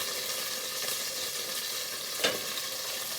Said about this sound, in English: Now you gotta cook this anchovy until it just dissolves inside.